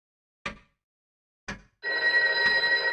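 Two short separate knocks precede a loud continuous telephone bell starting to ring in the video game Loretta, the ringing clear and close with a brief hitch partway through.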